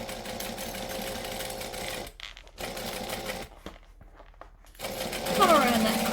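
A sewing machine stitching fabric whirs in steady fast bursts, stopping and restarting with short pauses between runs, close and loud, with a voice talking over parts of it.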